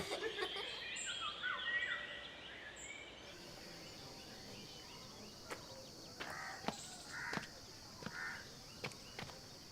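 Bird calls ring out, a few short bright cries spaced apart in the later part over a faint, hissy background, moderately distant and not very loud.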